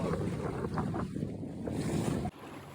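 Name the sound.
heavy wind while sailing a Buccaneer 18 sailboat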